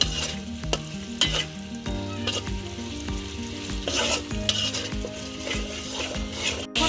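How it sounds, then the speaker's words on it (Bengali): Chopped tomatoes stirring and sizzling in hot oil with cooked-down masala, a spoon scraping and knocking against the pan in a steady rhythm over a continuous frying hiss, close and loud. "টমেটোগুলোকে কষানো মশলার সাথে ভালোভাবে মিক্স করে নিচ্ছি।"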